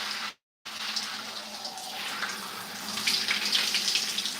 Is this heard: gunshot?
no